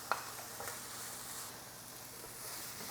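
Onions sauté in a pan for Spanish paella, a faint steady sizzle with a soft clink of a utensil at the start, quiet and continuous.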